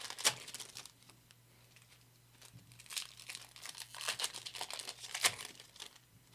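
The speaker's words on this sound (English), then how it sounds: "I'm going to rip 2 packs" Foil packs of NFL trading cards being ripped open: crinkling and tearing bursts, sharpest near the start and end, with quieter rustling and handling between, close and fairly soft.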